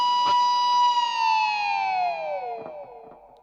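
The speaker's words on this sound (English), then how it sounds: "I'm going to play a harmonic on the 9th fret of the G string" An electric guitar harmonic at the 9th fret of the G string rings clearly, and the whammy bar is pushed slowly down so the bell-like pitch sags smoothly. Faint picking and handling clicks sound near the start and the end.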